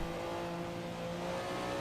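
A Porsche 962 C race car in Assetto Corsa holds a loud, steady engine drone at high revs with a strong, even tonal hum, close and continuous with no voices.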